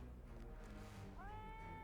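Cat meows in the game Ravenloft, a short, faint mew rising near the end over a low ambient drone.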